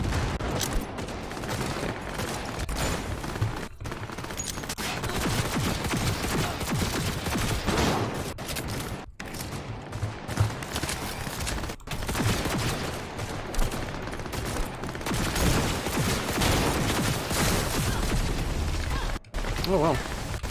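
Gunfire in the video game Cyberpunk, dense continuous bursts of shots and blasts for about twenty seconds, loud and busy with brief gaps, with a voice talking faintly underneath.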